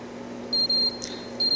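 A machine's control-screen alarm beeps at the end of a process cycle: two loud, clear electronic tones, the first lasting about a third of a second and the second starting just after, over a steady low hum.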